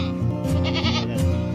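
Goats bleat loudly and close by in several wavering, nasal calls, one after another with short gaps, alone with no talk.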